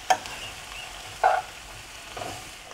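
Food frying in a Teflon pan for shakshuka gives a soft, steady sizzle, broken by two brief scraping clicks of tongs turning it, with no talking.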